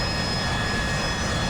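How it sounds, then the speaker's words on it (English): An AV-8B Harrier jump jet in DCS flight simulation, a steady loud roar of jet engine noise with a constant whine, continuous and unbroken throughout, no voices. "most iconic aircraft of them all, and it's the Av-8b Harrier"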